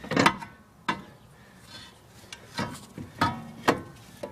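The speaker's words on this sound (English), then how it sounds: "Now I'm just going to slide the entire caliper off of the rotor." A brake caliper is slid off its rotor during a brake pad and rotor job, giving a series of sharp metallic clunks and scrapes at irregular intervals, close and fairly distinct, with no talking.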